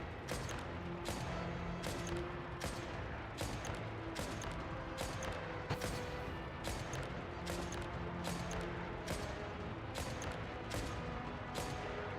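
Gunfire in a video game, with sharp shots and bursts recurring about once a second over a dense, continuous bed of game noise and mechanical clatter throughout.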